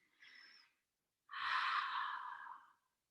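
A yoga practitioner takes deep breaths. A short soft inhale is followed after a pause by a longer, fuller exhale, close and quiet, with no speech.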